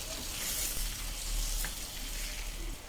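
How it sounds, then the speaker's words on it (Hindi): Chicken fries on a medium flame, making a steady, soft sizzle with faint crackles, with no voices over it. "चिकन को मीडियम फ्लेम पर ही कलर चेंज होने तक फ्राई कर लेना है।"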